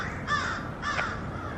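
A crow caws twice in quick succession, with harsh, clear calls at moderate distance over a light outdoor hush in a New Orleans garden district street lined with oak trees.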